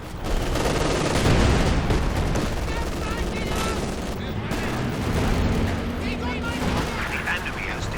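In Company of Heroes 2, a Calliope rocket artillery launcher fires during a 3v3 battle, making a dense, continuous barrage of loud blasts and rapid gunfire, with voices over the din.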